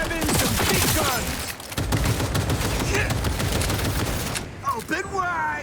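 Heavy weapons fire in Cyberpunk 2077 crackles in dense, rapid bursts of gunshots, loud and continuous, with voices and game effects mixed in underneath.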